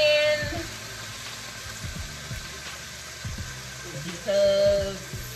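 Food frying in hot grease in a pan, a steady sizzle running throughout with a few clinks and a louder burst of crackling near the end.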